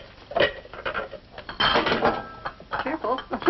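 Pyrex glass dishes clink and knock against each other while being lifted out of a cupboard, several close clattering contacts in bursts, with people talking over them.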